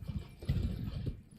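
Horse hooves gallop in the video game Elden Ring, rhythmic clip-clop footfalls close and moderately loud over a quiet game backdrop, lasting about a second and a half.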